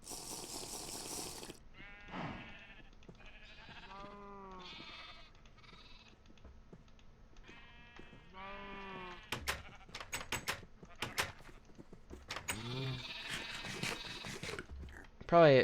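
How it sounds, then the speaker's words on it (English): Sheep in the Terrafirmapunk video game bleat several times in wavering, harmonic calls at moderate distance, mixed with other game sounds, sharp clicks and rustling bursts, ending with a loud thump. "Probably at some point we'll separate the sheep from the cow."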